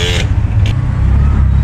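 Road traffic from inside a tuktuk, with a steady low engine rumble and two short car horn toots near the start, one of them slightly longer than the other.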